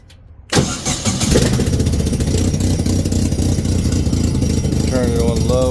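A Titan 875 blower engine cranks and catches, then runs loudly and steadily at a mid-pitched idle with a throbbing drone close by, with a voice briefly heard near the end.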